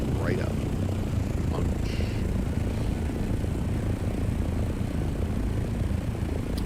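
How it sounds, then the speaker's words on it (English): A small plane flies in the video game Dune: Awakening, giving a steady, broad engine drone that holds at an even loudness for the whole stretch, with faint higher tones drifting in and out. "But thankfully, we got this nice little plane now."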